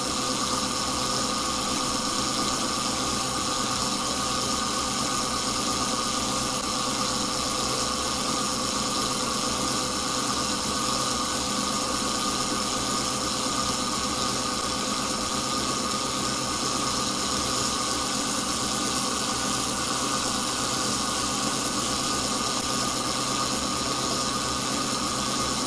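A generator engine runs steadily at speed to power a crypto mine, a continuous mid-pitched drone with a dense hum and faint rattling vibration that holds evenly throughout, alone with no voices.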